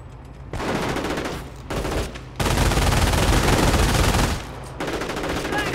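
Half-track's mounted machine gun in the video game Company of Heroes, firing loud sustained bursts separated by brief pauses, with battlefield din and no talk.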